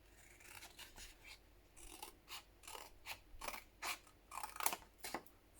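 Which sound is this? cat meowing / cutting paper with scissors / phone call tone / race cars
cutting paper with scissors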